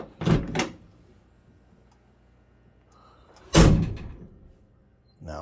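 Two solid thunks from the double-wall panel doors of a 1970 Chevelle with Fisher body, one early with a double hit and a louder close slam near the middle, each heard alone in a quiet space.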